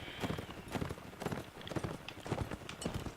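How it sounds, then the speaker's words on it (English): Many horses gallop in a Roman invasion battle video game, a dense, busy clatter of hooves that continues without a break, with faint voices in the background. "it's difficult because there's so many horses here"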